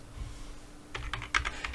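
Computer keys clatter in a quick burst of close typing after a quiet pause, light distinct clicks at an uneven pace with no talking.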